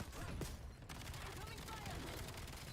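Rapid gunfire from Call of Duty Black Ops 7 crackles continuously in dense overlapping bursts, loud and close, with speech mixed in.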